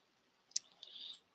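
A single sharp mouse click confirming an OK button in SolidWorks CAD software, close and crisp, followed by a brief faint hiss.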